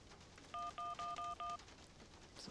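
Telephone keypad dialing in the PC game Syberia: five quick, evenly spaced touch-tone beeps, clear over a quiet background.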